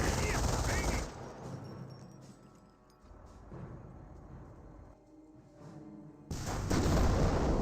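Gunfire volleys from a Company of Heroes 1 battle: rapid machine-gun bursts and rifle fire that open loud, thin out into scattered distant shots, then swell again into a dense barrage at the end.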